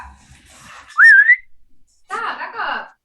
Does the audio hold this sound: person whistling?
yes